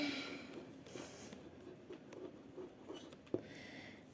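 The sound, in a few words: writing words by hand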